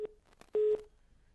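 A telephone busy tone sounds after a dropped call to a reporter covering a strike in Yamunanagar: short steady beeps, one brief and one longer, clear and fairly loud against a quiet line.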